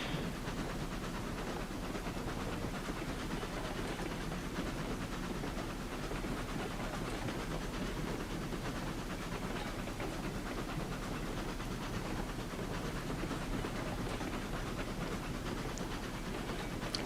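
Steam locomotive in a train simulator game runs steadily, a dense continuous rumble and hiss with faint rhythmic chuffing, unbroken throughout and with no talk.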